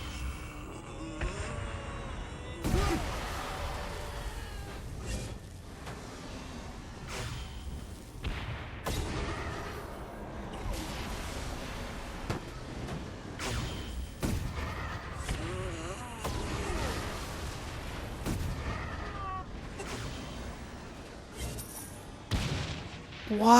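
Repeated gunfire from a video game weapon, a steady stream of sharp shots and booms spread across the whole stretch, with a voice talking now and then underneath.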